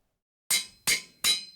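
Three quick, bright metallic clinks in a regular rhythm against silence, as tools break while smelting in the Minecraft GregTech New Horizons modpack; crisp, close and fairly soft.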